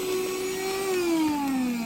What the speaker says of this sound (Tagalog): Vacuum. Ayan, so gumagana 'to. Ayan oh. Ang lakas niya.